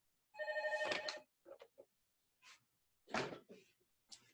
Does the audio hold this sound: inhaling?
no